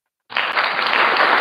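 After a brief silence, applause bursts in suddenly and continues as steady clapping from a crowd.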